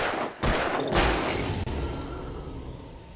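Gunfire in Alan Wake: a couple of loud, broadband blasts close together near the start, each trailing into a long reverberant decay over rumbling game ambience.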